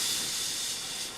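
Steady hiss of steam escaping from Thomas the Tank Engine in a children's cartoon, a continuous airy rush that holds level and then eases slightly at the end.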